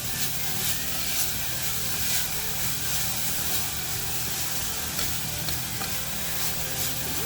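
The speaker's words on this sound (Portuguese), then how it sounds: "Agora é só mexer até chegar naquela cor dourada do coco queimado" Coconut flakes toasting with sugar in a pan over high heat, stirred continuously, giving a constant close hiss and scraping rustle throughout.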